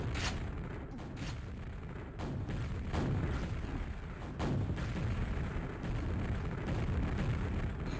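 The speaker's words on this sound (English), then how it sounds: "Narrowly missing those rockets, that was so close." Rocket explosions in a Quakeworld match, with several sharp blasts cutting through a dense, roaring wash of game noise, loud and continuous throughout.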